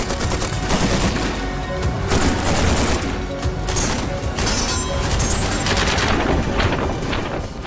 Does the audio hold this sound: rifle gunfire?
yes